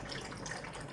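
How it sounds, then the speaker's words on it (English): Milk poured from a height into a cup of tea to aerate it, a steady close liquid splash and trickle lasting about a second with no talk. "we want to energize the milk as we pour it in."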